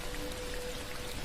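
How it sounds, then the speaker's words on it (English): Steady rain falling in a continuous, even patter, quiet and constant throughout with no voices. "Rain falls from the sky."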